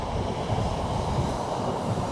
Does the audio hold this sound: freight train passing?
yes